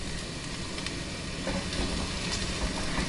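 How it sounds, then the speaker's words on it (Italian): Ground meat for a Bari-style meat calzone frying in a pan, a steady dense sizzle close by with no talk, growing slightly louder halfway through. "Quindi mentre cuoce la carne, vedete, dovete comunque sempre amalgamare in modo che non si attacchi."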